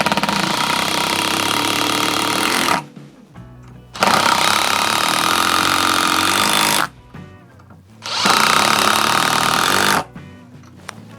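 Bosch GDR 12V-110 12-volt impact driver at top speed driving a screw with a PZ2 bit: loud, continuous rattling hammering in three long bursts with short pauses between them.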